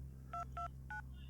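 Three short two-tone telephone keypad beeps from a medical orderly dialing for the doctor, evenly spaced over a steady low hum, with no talking.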